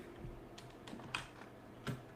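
Keys tapped on a Portuguese computer keyboard, a handful of sparse, irregular clicks with one or two sharper presses, no talking.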